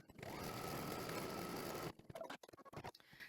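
An embroidery machine runs a placement stitch for batting on an in-the-hoop modular table runner, a steady rapid mechanical whir for nearly two seconds, then stopping into sparse clicks and handling noises.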